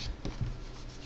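A keyboard cover being detached from a Surface Pro in a Moko slim fit case, giving a short, soft rubbing and scraping of plastic and fabric close up.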